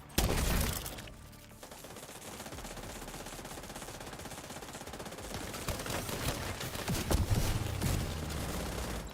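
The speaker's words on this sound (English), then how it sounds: "Who's shooting? Why are you shooting me?" Video game gunfire: dense, rapid automatic bursts and rattling shots fill the clip, loud and continuous after a brief pause near the start, with a sharper crackle of shots building toward the end.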